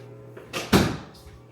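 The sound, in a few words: door closing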